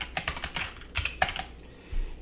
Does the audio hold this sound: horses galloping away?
no